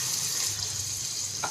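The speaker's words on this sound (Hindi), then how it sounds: "यानी आधा ग्लास पानी मैं इसमें डालूँगी" Water pours steadily into a pan of cooking vegetables and spices, a broad continuous splashing hiss lasting throughout, close and fairly loud with no talking.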